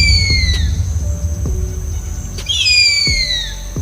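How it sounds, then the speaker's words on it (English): A big harpy eagle gives two high, thin whistled screams that slide downward, the second starting near the middle of the clip, clear above a low steady rumble. "Big harpy eagle."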